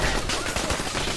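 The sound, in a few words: turrets firing in video game Fallout 4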